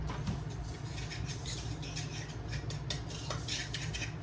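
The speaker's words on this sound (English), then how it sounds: "So I'm gonna now just use the same spoon to mix this up." A spoon stirs fruit and honey in a bowl for a rustic plum tart, giving soft scraping, clinking strokes that patter steadily at close range, alone with no voices.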